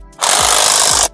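A Canfly hammer drill runs in a short burst, a loud buzzing whine with a rapid hammering rattle that starts abruptly and cuts off after about a second, heard close with no talk.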